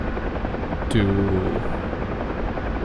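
UH-1 Huey helicopter flying at extreme speed in the DCS flight simulator, a continuous loud rotor and engine drone throughout, with a brief voice fragment and radio-like tone over it partway through.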